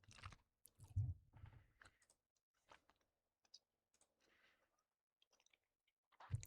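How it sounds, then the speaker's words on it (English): Close, quiet chewing of food comes in uneven bursts separated by near-silent gaps, with a louder bite near the end. "Sorry for the chewing."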